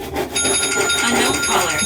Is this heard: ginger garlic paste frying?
no